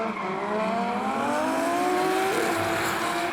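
An R32 Skyline drift car slides sideways at Wellington Speedway, its engine holding a steady high-revving wail with rising pitch while a constant tyre roar runs underneath, loud and close throughout.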